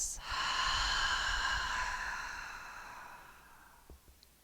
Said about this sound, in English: Audible exhale through the mouth.